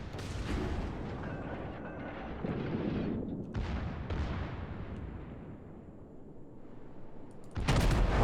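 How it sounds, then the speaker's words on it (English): German battleship secondary guns firing in a naval video game: a dense, continuous barrage of loud booming blasts and rumbling, with fresh bursts breaking through and a sharp, heavy volley near the end. "these German battleships, even the early tier ones, seem to have decent secondaries"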